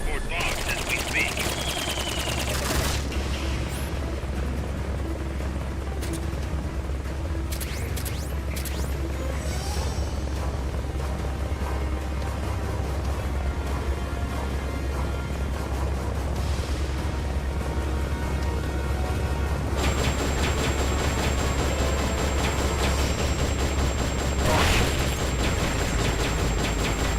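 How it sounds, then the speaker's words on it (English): Dense, continuous video-game gunfire and explosion effects from Metal Gear Solid: Peace Walker on PSP as a gas tank is shot. Sustained loud bursts with a low rumble, a blast near the start and another swell toward the end. "What was the point of me shooting the gas tank there if it exploded and then didn't?"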